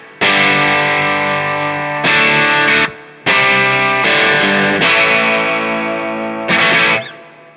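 Electric guitar played through the lead channel of an Emprize Harrier amp with added grunt, a series of loud, sustained distorted chords, each ringing for about a second or two before being cut short and restruck.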